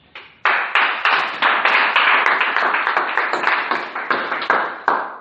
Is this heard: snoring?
no